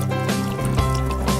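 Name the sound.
sprinkling water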